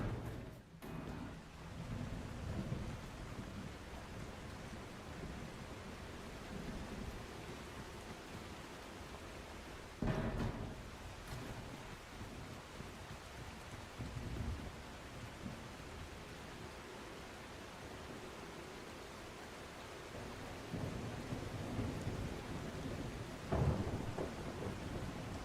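Thunderstorm with heavy rain in the video game The Last Caretaker, a constant dense wash of rainfall with rumbling thunder and a few sharper cracks breaking through over about twenty-five seconds, no voices.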